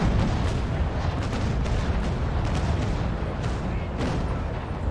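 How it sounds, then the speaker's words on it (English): Ship cannons fire a broadside in the Naval Action naval combat game, a dense, continuous rolling roar of overlapping booms and crackling blasts that stays loud throughout. "I'll give her another broadside here, if I can"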